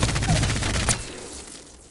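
Devotion light machine gun firing during a ranked match in a video game, a dense rapid stream of shots close up that thins and fades out before two seconds.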